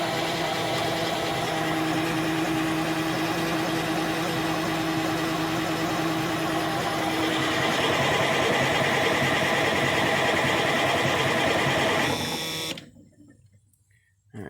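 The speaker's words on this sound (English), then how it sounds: "So we'll crank this a little bit more" A 1987 Kenworth T600 truck engine, left sitting in a field for over 20 years, cranks steadily with a loud, continuous mechanical whir for about twelve seconds before cutting off abruptly into near silence.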